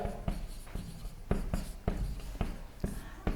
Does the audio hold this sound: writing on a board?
yes